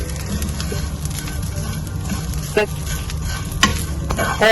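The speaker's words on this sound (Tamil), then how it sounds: "டார்க் ப்ரௌன் வர ரோஸ்ட் பண்ணிக்கலாம்." Masala being dry-roasted to dark brown in a pan for a king fish varutharacha curry, a steady close sizzle with occasional stirring scrapes and clinks running throughout without talk.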